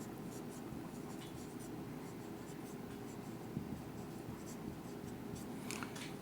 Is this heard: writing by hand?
yes